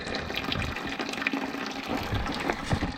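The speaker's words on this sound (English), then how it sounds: "Dump it. And here goes the next bucket." Water from a steam boiler being dumped out of a bucket during boiler maintenance, a steady close-up splashing pour running throughout with a few louder gushes.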